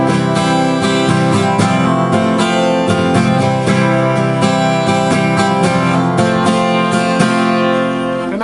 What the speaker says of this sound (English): hammer into that 3rd string at the 2nd fret